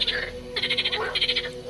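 Frogs in a reed-bed marsh during mating season, croaking in quick rhythmic pulses with two brief clusters of bright, rattling calls, fairly near and soft.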